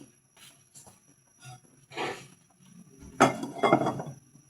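A metal lid settles onto a cooking pot of soup with pechay, a few light clinks and scrapes, then a louder clatter as it seats, close and alone.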